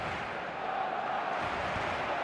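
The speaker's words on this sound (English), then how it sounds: "the crowd are reacting to that now" Video game crowd noise in an eFootball 2026 ranked match, a steady, dense roar of many voices swelling slightly, continuous throughout with no commentary over it.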